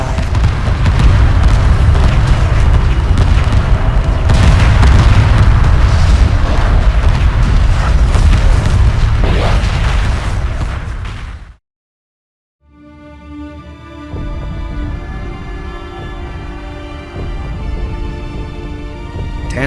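Loud, sustained roar of explosions as Tanis base is destroyed in the Homeworld 2 space strategy game, heavy rumbling booms for about eleven seconds, then a sudden cut to near silence before a quieter tonal score fades in.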